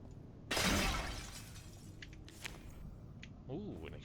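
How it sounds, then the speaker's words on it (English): A jar smashing in the video game Enshrouded: a loud shattering crash with scattering debris that decays over a second or two, then smaller clinks and a brief tonal game chime near the end. "Smashing the jars"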